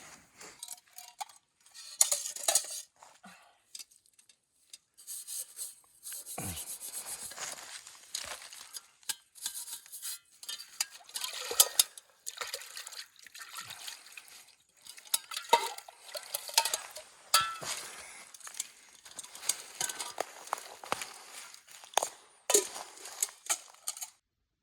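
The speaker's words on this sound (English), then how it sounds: "Once you mix up the dough" Dough is mixed in a pot at a camp, giving irregular scraping, stirring and soft clinking of utensil against metal, close and fairly quiet, in uneven bursts with short pauses and no talking.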